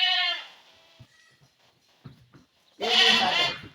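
Goats on a farm give two loud, wavering bleats, one at the start and one near the end, with soft scattered stirrings and small sounds in the quiet gap between them.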